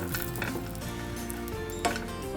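Raisins frying in ghee for sheer khurma: a steady, soft sizzle runs throughout, with a brief clink of utensils near the end.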